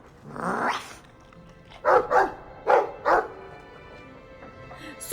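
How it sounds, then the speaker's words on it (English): Dog barking in the video game Dragon Age 2: a handful of short, sharp barks in quick pairs, fairly close, with quiet gaps between them. "A puppy, anything to say? Your Sparkback. Well, woof to you too."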